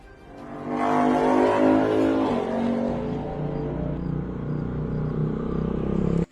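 An auto rickshaw engine rises loudly as the vehicle pulls up nearby, its motor droning steadily close at hand before cutting off abruptly.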